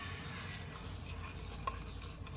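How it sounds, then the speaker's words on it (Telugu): Homemade natural soap mixture stirred in a pan over heat, giving a soft continuous scraping swish with a faint sizzle and one small clink, alone and fairly quiet. "ఇప్పుడు ఇది కలుపుకున్నాము, హీట్ మీద కలుపుకోండి"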